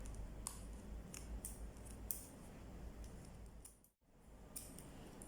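Scissors snip into fascinator material to cut a small hole in its middle, giving a series of faint, close crisp clicks spaced irregularly over a quiet background, with a brief silent gap near the end.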